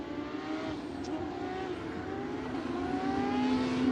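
Porsche Carrera Cup race cars at Sebring in 2021 give a continuous engine drone whose pitch climbs steadily as they lap the circuit, heard alone and at a moderate distance.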